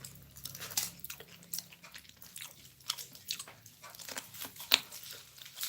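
Crunchy bites and chewing of young corn at a pre-dawn sahur meal, a string of close, crisp crunches and wet chewing with irregular rhythm, no talking.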